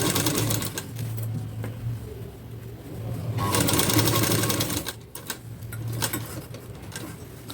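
A sewing machine stitches a plain square-neck blouse with four tucks, running in steady rapid bursts with short pauses and restarts, close and continuous throughout.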